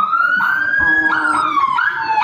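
A loud wailing ambulance siren rises and falls in pitch nearby, its sweeping tone steady and dominant throughout.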